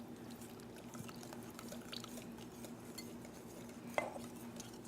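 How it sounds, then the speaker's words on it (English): Buttermilk poured into a bowl while someone whisks it for a dressing, a faint soft trickle and light scraping with a sharp clink near the end. "Jared, is you whisk it while she pours in"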